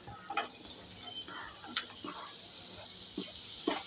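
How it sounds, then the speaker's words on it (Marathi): Cut pumpkin tipped into spices frying in oil, with a steady sizzle and scattered clicks and stirring taps, heard alone without talk. "आता ह्याच्यात मी घालणार आहे हे कट करून ठेवलेलं भोपळा"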